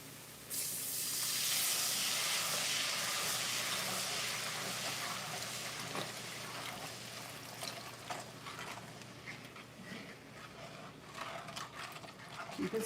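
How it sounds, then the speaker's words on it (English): Unsalted chicken broth poured into a hot pan of steak drippings for gravy, a loud steady sizzle and hiss that fades gradually into softer bubbling. "I'm going to add a little bit of chicken broth"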